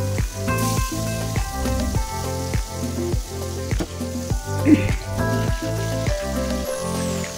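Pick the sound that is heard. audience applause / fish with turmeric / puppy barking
fish with turmeric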